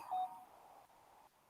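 A cellphone gives a short, bright electronic beep, then a fainter tone trails off, with a soft click at the end.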